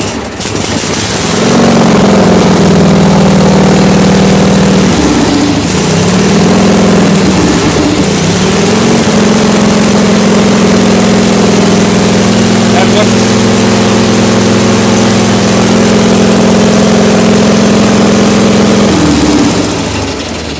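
A Case 446 garden tractor engine runs loud and steady at close range, a heavy low drone holding a constant pitch with a brief dip and recovery partway through before winding down near the end.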